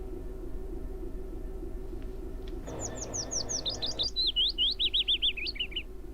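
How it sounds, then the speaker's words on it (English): Birds chirp outside during a train simulator session, a brief rush of noise giving way to a rapid, bright string of tweets and trills, clear over a low steady hum. "Those birds are annoying."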